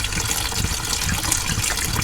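Coolant flows steadily from a radiator hose on a Porsche Boxster during a coolant flush, a continuous close, wet gushing that holds at an even level with no talk.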